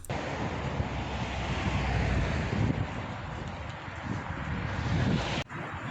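Tidal water surges through the Rance tidal dam in a steady, loud, roaring rush with heavy turbulence and wind buffeting. The roar stays continuous and nearby throughout, with no voices.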